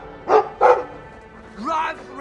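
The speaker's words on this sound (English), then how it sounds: "I like the doggy." A dog in the video game Dragon Age 2 gives two quick, close barks, followed by a softer whining yip, with a voice speaking lightly underneath.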